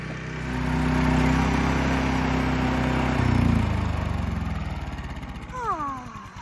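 A small generator running at an off-grid cabin in Alaska drones loudly and close, then its engine note drops and winds down as it is shut off, with a voice speaking near the end.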